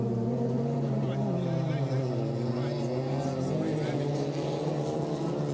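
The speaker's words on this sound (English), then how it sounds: "The buggy sounds like an auto." A rallycross buggy engine drones steadily and loudly at a race, its revving tone rising and falling under a commentator's continuous talk.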